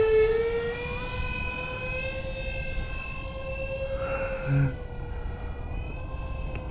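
A Dynam ME-262 RC model jet with its landing gear down flies a steady pass in winter, a continuous electric ducted-fan whine holding a high, even tone at moderate distance, with a brief swell near the middle.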